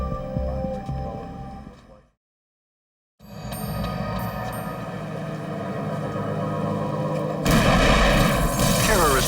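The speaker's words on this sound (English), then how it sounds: "Terrorist bombs explode at Mexican consulates in Miami and New York within hours of each other" Loud, dense booming blasts and rumbling from dramatized terrorist bombs exploding at Mexican consulates, broken by a sudden second of silence before the heavy roar resumes and swells louder near the end, with no talking.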